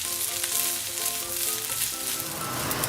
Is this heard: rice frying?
yes